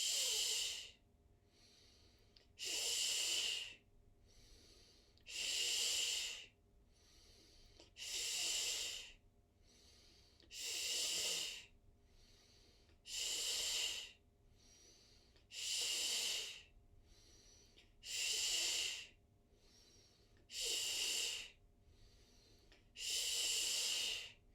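Slow, regular belly-breathing exercise for diastasis recti: about ten long, breathy exhalations spaced a couple of seconds apart, each a soft airy rush like a drawn-out shush or hiss, close and clear with quiet pauses between and no talking.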